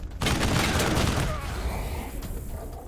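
Gunfire in the turn-based video game Wasteland 3, a dense burst of shots and booms filling the first seconds, then a rumbling tail as the noise fades.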